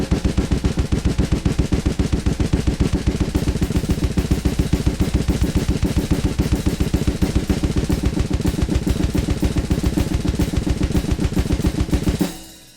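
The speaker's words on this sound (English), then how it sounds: "And so it'll create a gravity blast beat" A gravity blast beat rolled across two snare drums, an extremely fast, even machine-like stream of loud close hits lasting about twelve seconds before stopping abruptly.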